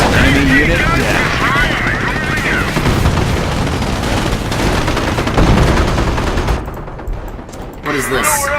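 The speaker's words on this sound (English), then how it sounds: "Let's go ahead and do some artillery barrages." Dense, loud gunfire and booming artillery barrages from Company of Heroes on the Normandy front at Cherbourg, continuous rattling shots and blasts filling the scene with a voice talking over the battle.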